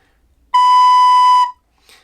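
A single sustained recorder note B, clear and steady, held for about a second in near silence, up close.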